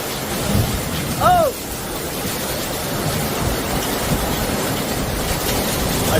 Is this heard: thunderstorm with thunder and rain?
yes